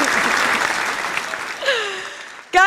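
Live studio audience applause during a morning crypto news show, a steady wash of clapping that fades out as a voice comes in.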